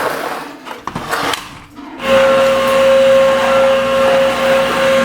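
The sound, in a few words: vacuum cleaner hoovering a house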